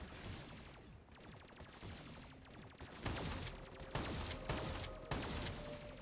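Rapid gunfire from a Shadows of Evil zombies match, dense bursts and repeated shots layered over game music and effects, fairly steady and loud throughout.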